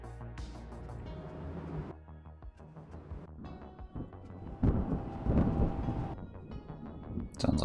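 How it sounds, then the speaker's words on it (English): A thunderstorm rumbles in the naval battle game Ultimate Admiral: Dreadnoughts: sustained deep rolling thunder with rain-like hiss, swelling louder midway and mixed with game ambience and distant booms. "Sounds like a storm."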